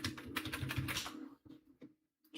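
Quick bursts of typing on a computer keyboard sitting in an awkward spot, a rapid dense clatter of keys for about a second, then a few scattered isolated taps.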